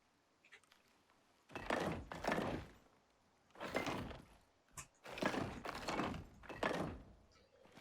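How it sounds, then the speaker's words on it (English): Roof pieces snap into place while building a shelter in the survival game Icarus, a series of loud, hollow thunks arriving in separated bursts with quiet gaps between them. "And then let's go ahead and throw in the roof."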